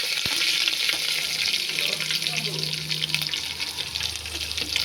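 Onions frying in oil with mustard seeds, curry leaves and garlic give a loud, continuous hissing sizzle, close and unbroken, with faint scraping underneath.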